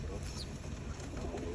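Karna pigeons being trained coo softly in low, throaty murmurs, faint and partly masked by steady background noise, with a quiet voice in the mix.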